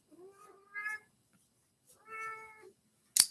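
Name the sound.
pet cat meowing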